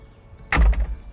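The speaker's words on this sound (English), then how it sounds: "door can easily be swung back for full access and no interference with your rear wheel for turning" Cabin door of a Merlo Compact P27.6 telehandler swinging open with a single solid thunk and a short rattle, close and loud.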